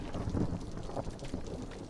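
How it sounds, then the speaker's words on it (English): A video game thunderstorm rolling in, with low rumbling thunder, wind and rain hiss forming a continuous moderate wash of weather. "Alright, now we got a storm coming in."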